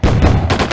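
A loud, close explosion blast in the video game Postal, a single booming burst under a second long with a heavy low-end rumble and a second thump near the end.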